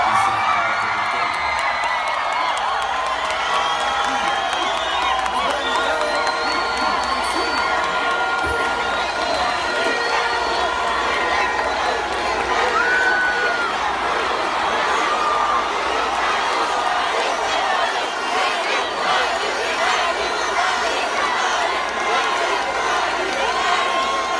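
A large crowd at a political event shouts a chant together, a dense, steady roar of many voices with whoops and cheers, continuous and loud for the whole stretch.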